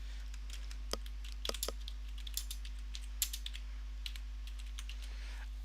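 Keys on a computer keyboard clack in scattered, irregular taps and short bursts, close and fairly quiet over a steady low hum, with no talking.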